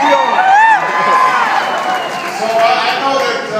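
Crowd at a Barack Obama campaign rally in Grand Junction, Colorado cheering and whooping loudly, with scattered shouts and applause swelling over a steady roar.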